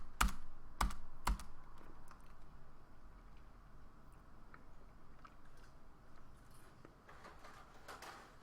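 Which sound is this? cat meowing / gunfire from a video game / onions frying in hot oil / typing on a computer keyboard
typing on a computer keyboard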